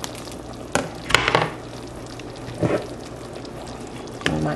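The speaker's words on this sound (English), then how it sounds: "Tossing my fish" Fish and okra sizzle in a pan for a Cameroonian okra soup, a steady close fry broken by several short bursts of tossing and scraping as the pan is stirred.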